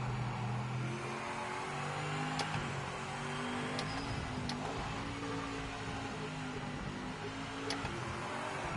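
A race car engine in the Project Motor Racing game revs up through rising pitches with quick gear shifts, steady and moderately loud, the drone climbing and dropping repeatedly.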